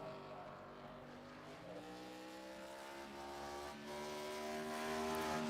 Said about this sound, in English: We hear him working that throttle, having to lift a little bit.